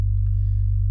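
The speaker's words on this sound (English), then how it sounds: "So this is what it sounds like right now. Just a sine wave right now," A pure sine-wave synth bass from FL Studio's 3x Osc plays a single sustained G note, deep, loud and steady for just under a second.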